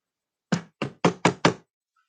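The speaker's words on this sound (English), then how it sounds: "the kid hears a knock." Five firm knocks on a door in quick, slightly uneven succession, close and clear, each a sharp thud with a short decay, in an otherwise silent space.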